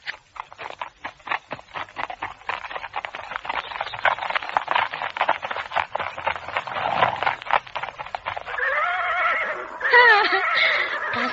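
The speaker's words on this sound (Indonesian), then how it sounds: "Seorang gadis menunggang kuda diiringkan oleh 10 orang laki-laki." Horses neigh and whinny in a radio drama scene where a girl rides on horseback escorted by ten mounted men, with dense clip-clop of hooves and rustling throughout, then several loud, overlapping whinnies rising near the end.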